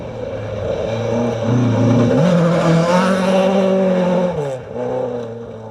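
A Toyota Starlet rally car on a historic stage, its power steering failed, drives past with a loud rising and falling engine note as the driver shifts through gears, close and continuous with no talk.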